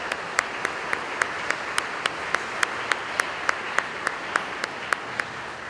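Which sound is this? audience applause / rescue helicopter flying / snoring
audience applause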